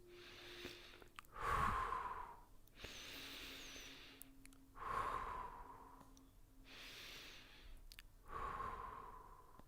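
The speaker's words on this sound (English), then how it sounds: "keep feeling strong breaths and hear the breath and feel the breath" Strong, deliberate breaths during meditation, four slow cycles of deep airy inhales and exhales spaced a couple of seconds apart, close and clear in a quiet room with no talking.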